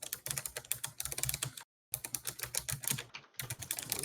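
Brisk, continuous typing on a new computer keyboard, dense clacky keystrokes close to the mic, broken by two brief pauses.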